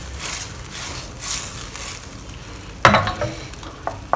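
Fish slices sizzling in a hot pan with ginger and spring onion, a steady close frying hiss, broken near the end by a loud clatter of the utensil against the pan and a few lighter knocks.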